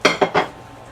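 A plate is grabbed and set down in a home kitchen while making a chili omelet, three quick ceramic clatters close by, then quiet.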